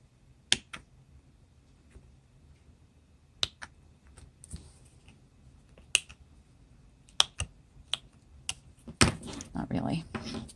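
Snips snap sharply through the seam of a plastic ping pong ball, in scattered single crisp clicks and then a quick burst of rapid cuts at the end, close and otherwise quiet.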